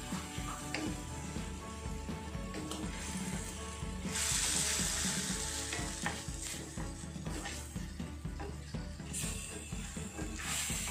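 Chicken afritada with bay leaf sizzles steadily in a pan while a utensil stirs and scrapes through it, a dense continuous frying hiss with rhythmic clinks, and a brighter surge of sizzle midway.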